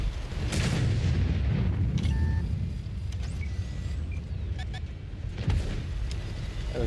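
Gunfire in a video game, booming shots with a short cannon-like blast near the middle and another heavy burst late, over a constant loud rumble of battle noise with speech throughout.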